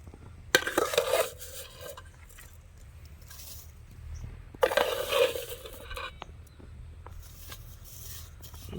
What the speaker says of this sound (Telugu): గీలో వేయించుకున్న సేమియాని వేద్దాం